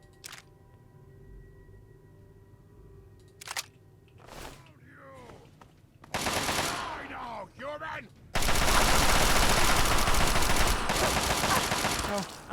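Rapid automatic gunfire in Fallout 3, with a sustained loud burst of shots dominating the end, preceded by scattered clicks and tonal game sounds, while a voice talks over the earlier part.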